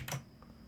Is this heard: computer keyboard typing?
yes